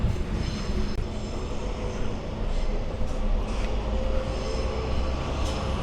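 Train at Minami-Senju station in Tokyo, a steady, loud rumbling roar with a constant low-frequency drone from the cars passing close by, continuous throughout.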